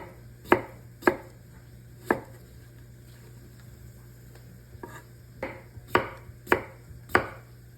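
A guarded hand slicer cuts vegetables for a Zuppa Toscana, giving sharp, close chopping strokes in an uneven rhythm, about eight distinct cuts with short pauses between them and a faint steady hum underneath.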